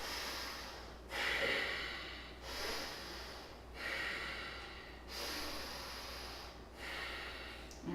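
Slow, deep breathing during a yoga rest, with long airy inhales and exhales in a steady cycle of about two seconds, close and soft, with no talking.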